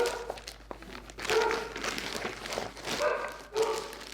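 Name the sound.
dog barking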